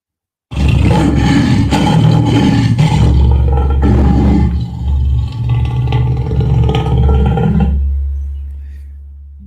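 A loud, deep lion roar starts suddenly and rumbles with heavy low-end growl for several seconds, then fades away slowly, with nothing else around it.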